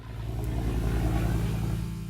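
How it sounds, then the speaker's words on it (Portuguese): An old aircraft engine drones in a steady, pulsing rumble with a throbbing low beat that swells slightly and then eases, loud and close, with no voices over it. "surpreendidas talvez pelo ruído insólito do motor"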